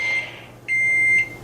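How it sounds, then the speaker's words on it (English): A kitchen timer sounds two sustained electronic beeps, the first brief and the second longer after a short gap, loud and close with no talking over them. "there's our timer"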